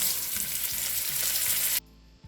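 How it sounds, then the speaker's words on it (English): Beef roulades browning in hot oil in a preheated pot give a loud, steady sizzle with broad hiss and occasional crackle, cut off abruptly near the end, leaving quiet background. "I will introduce some amount of oil on my preheated pot to brown it up"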